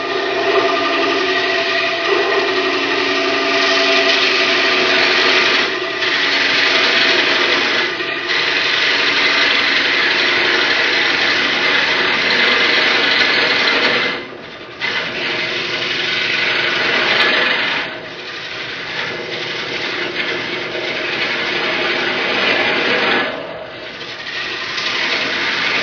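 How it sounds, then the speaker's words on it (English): A woodturning scraper cuts across the end grain of a platter on a lathe, producing a loud, continuous harsh scraping whir. Brief dips in the sound suggest short pauses in the cut. "As I'm going across here, I'm cutting pretty much into end grain, and you can hear that the wood does not like this."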